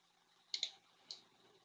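Mouse clicks in RhinoGold jewelry software as stones are placed: a quick double click and then a single click, sharp and close in a quiet room.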